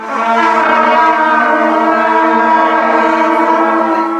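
A school band's students hold a sustained F sharp together, a steady, loud, harmonically rich tone from many instruments that fills the whole stretch without a break.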